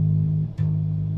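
A bass guitar tuned down a half step holds an A flat note, a steady low sustained tone played alone, with a brief break and fresh pluck partway through.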